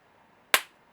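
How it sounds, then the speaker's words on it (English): Capacitor charged to 142 volts discharging through a contact, giving a single sharp spark-crack and loud bang with a brief decaying tail, alone against a quiet room. "once this makes contact, you should see a spark and a loud bang"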